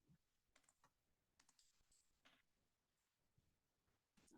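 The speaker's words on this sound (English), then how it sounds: "She's typing, so she needs to know what you said." Soft, sparse tapping of a computer keyboard at a township planning commission meeting: a few light clicks in short bursts, fairly quiet in a hushed room, with a louder noise at the very end.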